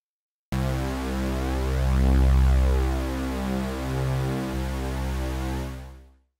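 Synth bass from Padshop 2's Spectral Engine holding a C3 note with the loop active, one sustained, rich tone that swells slightly midway and then fades out near the end.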